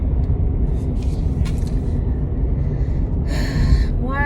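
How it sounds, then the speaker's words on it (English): Busy city road traffic rumbles steadily up close, with passing vehicles, a hiss like an air brake and brief higher-pitched squeals near the end. "Why is there all this traffic?"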